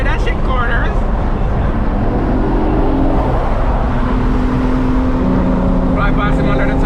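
A 2016 BMW M3 engine held at half throttle during a spirited road drive, giving a steady, loud drone with rising and falling pitch and voices talking over it throughout.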